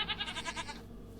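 Minecraft goats bleat in a short run of quick, wavering nasal cries, fairly clear and close with no talking over them.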